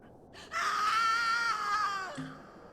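A human voice imitates a scream, one long, loud, high-pitched sustained shriek that starts abruptly and fades into a short lower tail.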